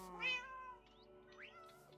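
A Minecraft cat gives a single clear, close meow, followed by a softer rising mew, with no other sound around it.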